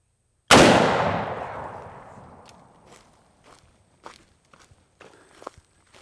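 A single loud, close .45-70 rifle shot from a Henry X Model, fired into a chunk of black locust wood, cracks sharply and rings out in a long decaying boom, followed by scattered faint clicks and small knocks.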